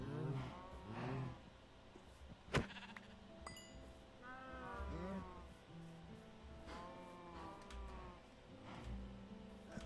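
Sheep bleating in Minecraft, several wavering blocky bleats repeating through the stretch with overlapping calls, moderately loud against a faint background hum and a sharp click near the start.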